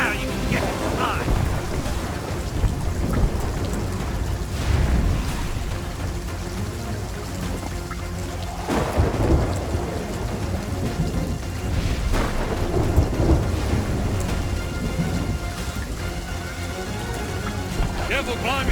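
Thunder rumbles from Calypso's lightning strike in the Sea of Thieves video game, a heavy stormy roar with rain that swells in loud bursts around the middle, under game music and some talk.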